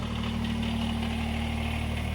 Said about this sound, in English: That little gasoline engine should fire up like that.